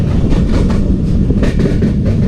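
The Jaffar Express passenger train rolls along the rails with a loud, steady rumble heard from close by, with a rhythmic clatter of wheels over track joints and no talk.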